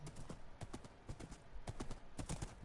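A horse trots along in Minecraft, its hooves making a quick, steady clip-clop that repeats evenly and sounds soft and close, with no talking.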